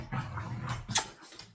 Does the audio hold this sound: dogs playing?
yes